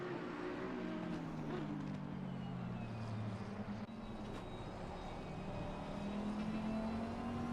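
McLaren race car engine in an endurance racing video game at the Hungaroring, a steady droning roar with rising and falling pitch as it powers out of a corner, loud and continuous with no talk.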